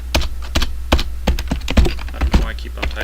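Computer keyboard typing in quick irregular bursts of sharp clicks and key thunks, close and fairly loud, with short gaps between runs of keystrokes and a low steady hum underneath.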